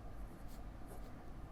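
A Benu Pixie fountain pen writing on paper, a faint continuous scratchy rasp, close and quiet with no voices.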